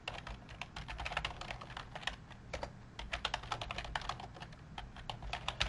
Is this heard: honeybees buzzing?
no